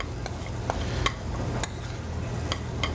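Scallops sizzle and fry in brown butter in a pan, a steady close crackle with a few light clicks of a utensil stirring, no talking.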